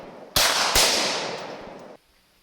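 A Milbank-Amsler Swiss .41 rimfire trapdoor rifle fires with a sharp, loud crack, followed moments later by a second sharp report and a long rolling echo that fades before cutting off outdoors, with no talking.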